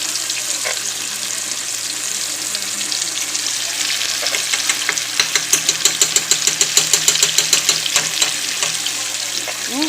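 Mustard-coated pork chops frying in a pan for a Southern home-cooked dinner, a steady close sizzle and crackle with a low hum underneath and a run of sharper popping spatters in the middle stretch.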